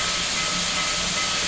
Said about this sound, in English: So you can see there all the excess steam is leaving the cylinders.